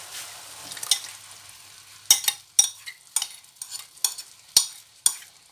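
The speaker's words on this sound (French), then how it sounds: "On va ajouter le sirop." Syrup hits chicken wings frying in a pan, raising a steady sizzle broken by a series of sharp scraping stirs, loud and close with no talking.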